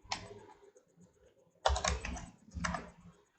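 Bursts of computer keyboard typing while entering Python code, three close clusters of rapid clicking keystrokes separated by short pauses, with no talking.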